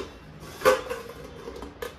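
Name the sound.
dishes being put away in the kitchen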